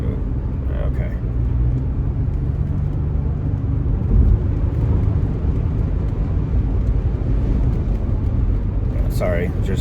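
A car rolling through a road construction zone, steady low engine and road rumble throughout, near and continuous, with a voice talking over it.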